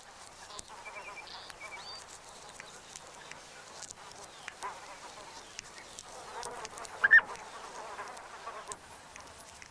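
Insects buzzing among flowers in a red desert, a faint continuous hum of wings with small flies and bees drifting close and away, light intermittent chirps in the background.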